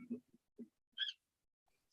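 A bird hooting in a radio studio, a few short soft hoots spaced by silence, close and fairly faint.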